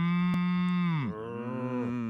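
A single close, loud cow moo, a deep sustained bellow that dips in pitch midway and trails off over about two seconds.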